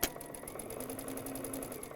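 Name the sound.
sewing machine sewing quilt pieces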